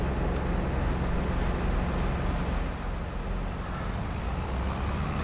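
A tractor rolling forward in Farming Simulator 22 on a British farm map, its engine a steady low drone with broadband rumble, constant and fairly loud with no other clear sounds.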